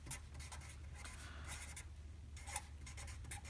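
Pen scratching across a sheet of paper, a quiet, close series of short strokes and scribbles in irregular bursts, with no voices.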